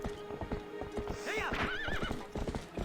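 A horse's hooves clip-clop in a steady rhythm in the video game Twilight Princess, joined midway by a loud whinny, with game music playing underneath.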